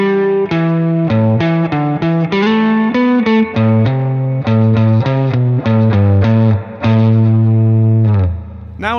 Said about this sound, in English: Here are a couple of basic variations on the initial riff that add a few notes.